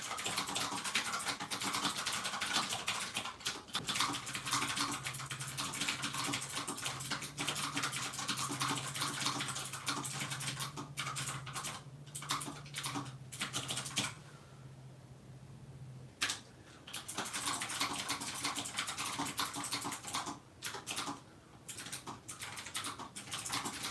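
Keyboard typing during a fantasy novel draft writing session, a steady stream of quiet, rapid key clicks running throughout with brief pauses, close and soft against a faint background hum.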